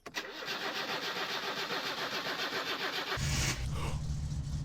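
A car engine starts up in the video game My Summer Car, with a long steady cranking churn followed by a sudden catch into a low rumbling idle, close and fairly loud.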